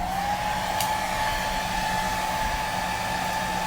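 A hair dryer blows steadily at close range while drying a watercolor background, a continuous loud whooshing roar with a faint steady whine and no talk.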